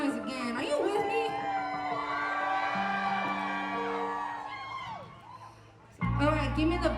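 Crowd at a downtown Phoenix Indigenous Peoples' Day festival whooping, cheering and yelling in a long sustained roar with high shouts, fading out before a loud low burst at the end.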